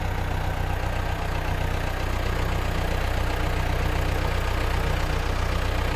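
A farm tractor's engine runs steadily at a low, even throttle as it manoeuvres through a tight turn near spruce trees. The rumble is close and continuous, with no talk over it.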